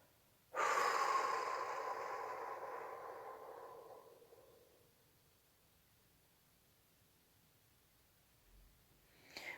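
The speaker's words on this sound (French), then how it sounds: "doucement vous allez expirer très lentement" Slow, drawn-out exhale during a sophrology breathing exercise, a single long breath that starts suddenly, fades gradually over several seconds, then gives way to near silence before a faint breath returns at the end.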